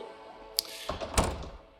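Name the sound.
bedroom door closing in video game Lost Records: Bloom & Rage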